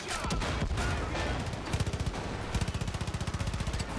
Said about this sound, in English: So I'm just gonna shoot the driver.